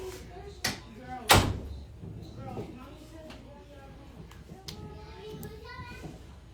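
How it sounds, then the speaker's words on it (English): A door swung shut with a loud, close slam, preceded by a lighter knock, amid a busy home where children's voices and chatter carry on around it. "Close the door, lock the door."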